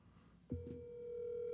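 Telephone line on a radio show connecting: a faint background hum, then a sudden click followed by a steady, sustained electronic tone.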